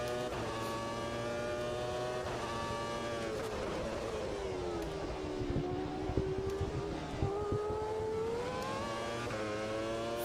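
Race car engines in the AMS2 racing video game at a 90's F1 Grand Prix: a high, tonal engine whine rising and falling through gear changes and revs, steady and loud with no talking over it.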